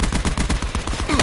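Rapid automatic gunfire in the video game Call of Duty: Black Ops 4 rattles in a dense, loud burst of sharp repeated shots, nearly continuous with slight gaps, close and punchy.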